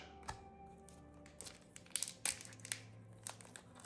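A trading card game booster pack for Warlord: Saga of the Storm being torn open with difficulty: soft crinkling of foil wrapper, then sharper rips and crackles in uneven bursts, close up and fairly quiet, with no speech.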